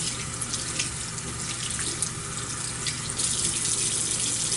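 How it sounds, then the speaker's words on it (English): Lukewarm tap water runs steadily into a sink while face exfoliant is rinsed off, a continuous close hiss and splash with small shifts as hands move through the stream, no voices. "I'm now going to rinse it off with lukewarm water."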